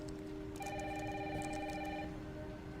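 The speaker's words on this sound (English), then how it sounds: "Mom, phone." A telephone rings in a game trailer scene, steady harmonic electronic ringing starting about half a second in and lasting around a second and a half, over constant rain-like background noise.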